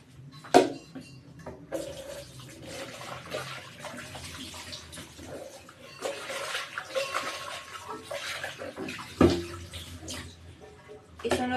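Water from a betta fish bowl is poured into a drain in a home bathroom, giving uneven splashing and gurgling with a few sharp knocks, at moderate volume.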